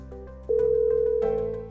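A telephone line gives a steady, loud dial tone that holds for about a second, after some soft beeps. A short tonal shift marks its final stretch before it fades.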